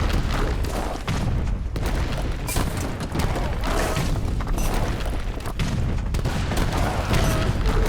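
Booming artillery and falconet cannon volleys in Age of Empires 3, a dense, continuous barrage of overlapping blasts and crashes with no gaps, loud throughout the battle.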